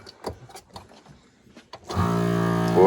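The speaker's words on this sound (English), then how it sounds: "We're going to go ahead and vacuum seal these" A vacuum sealer works on a regular jar of marshmallows, starting after a stretch of quiet clicks and handling noises with a steady electric motor hum that holds and rises slightly at the end, near and loud.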